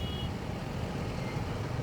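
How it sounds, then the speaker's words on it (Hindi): Heavy evening road traffic in Noida, with a dense, steady rumble of engines and a thin high beep briefly at the start, continuous and moderately loud throughout without talking. "यहाँ पे बहुत बढ़िया सा ट्रैफिक है, बहुत ख़तरनाक वाली"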